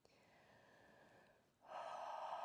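Quiet, steady breathing during a yoga forward fold at home, a soft inhale followed by a louder, fuller exhale close to the mic.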